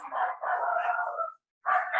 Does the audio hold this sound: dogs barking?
yes